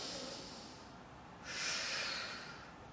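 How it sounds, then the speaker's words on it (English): A slow inhale through the nose during a stress-relief stretch, soft airy breathing followed by a louder, sharper intake of breath, close and quiet with no speech. "I'm going to breathe in my nose."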